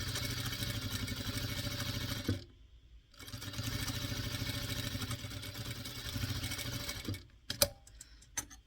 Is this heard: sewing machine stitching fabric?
yes